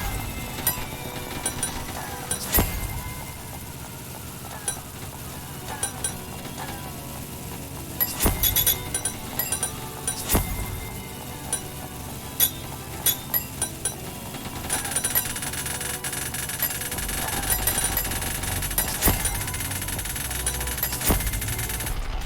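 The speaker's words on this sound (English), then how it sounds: "Yeah, that's the minigun." A minigun fires in the video game Ragdoll Universe, with bursts of rapid gunfire and clinking metallic impacts over a continuous synthetic background hum. Sharp peaks cluster in several volleys.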